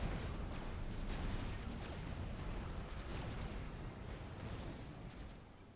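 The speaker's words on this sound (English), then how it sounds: "Oh, a lovely little bombing run over the top of the base once again." Bombing run explosions over a base in Supreme Commander, a dense continuous roar of blasts and crackling bursts, loud and sustained, slowly fading toward the end.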